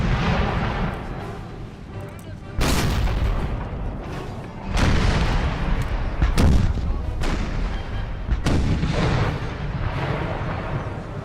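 Repeated booming cannon fire from round shot volleys in an Empire Total War battle, several loud heavy blasts over a continuous rumbling battlefield din, with no talking.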